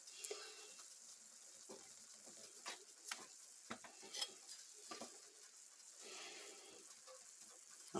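Flour cooking in a pan as the roux for baked mac and cheese, a soft steady sizzle with occasional scraping stirs and light clinks, quiet and close with no talking.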